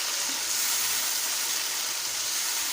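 Four green chilies hiss and sizzle in a hot pan with tomatoes while chicken keema masala cooks. The frying noise is steady and bright from start to end, close by, with no talking.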